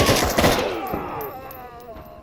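Rapid bursts of automatic gunfire from a tactical shooter game, Door Kickers 2, crackle loudly and densely at first, then thin into scattered shots and a fading echoing tail, with a voice briefly underneath.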